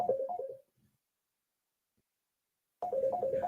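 A phone rings in two bursts of warbling electronic trills, each under a second long, separated by about two seconds of silence. The rings are moderately loud and heard alone.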